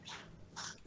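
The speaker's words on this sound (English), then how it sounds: "my puppy over here is going a little nuts" A puppy named Roxy whimpers and yelps in short excited bursts, two clear squeals close by with a brief gap between them, no talking over it.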